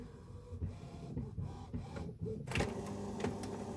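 A printer runs steadily through a maths exam paper walkthrough, its mechanical whirring and clicking continuous and close, with louder feed noises near the end and no talk.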